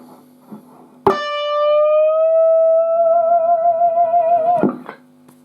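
A distorted electric guitar ends a rock solo with a firmly picked tone bend from D on the B string, rising and then holding as one loud, sustained note for about three and a half seconds.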